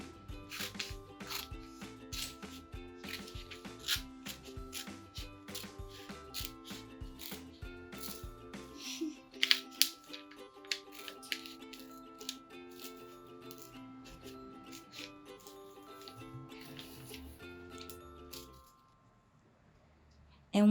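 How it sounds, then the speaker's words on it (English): Scissors snip repeatedly through folded newspaper at a craft table, a steady run of crisp close cuts and paper rustles with music playing underneath, ending in a brief quiet pause. "Make sure that you are cutting through both pieces of newspaper, so both halves that are creating that fold."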